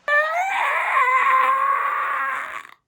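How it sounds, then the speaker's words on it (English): A creature screeches in a shrill, wavering, harmonic shriek from the 1979 film Alien as an escape pod is opened. It is loud and sustained for nearly three seconds, then cuts off abruptly. "Opens the escape pod, and the poor alien just screeches."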